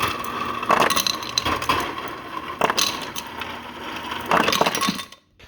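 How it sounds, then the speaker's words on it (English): Ice cubes clink and rattle into a glass in several separate bright bursts while a Starbucks-style iced shaken espresso with oatmilk is made at home. The clatter ends in a brief quiet. "I'm going to start by putting some ice in here"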